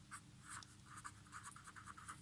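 Chalk or marker scratching across a board during a mathematics lesson, a series of quick faint strokes in short bursts, close and quiet.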